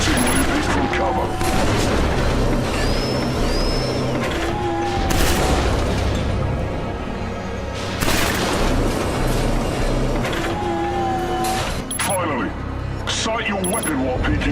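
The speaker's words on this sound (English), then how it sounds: "Try shooting when you peek from cover." Video game shooting tutorial gunfire sounds as bursts of loud shots and booms fired while peeking from cover, with several volleys spread through the stretch and a voice speaking over parts of it.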